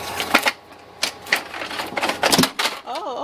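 A printer's mechanism moves while working, giving bursts of clattering, ratcheting clicks at an irregular rhythm, close by with a brief whirring glide at the end.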